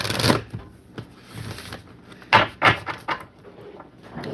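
Tarot cards are shuffled by hand in quick, irregular riffling bursts and soft slaps, close and clear, with no talking.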